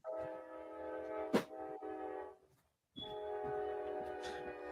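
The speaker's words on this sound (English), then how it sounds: "I didn't realize you were on a train." A train rumbles past near railroad tracks at night, heard from a home close to the line, with a sustained loud roar and a brief horn-like burst, cutting out for a moment before the steady rumble returns.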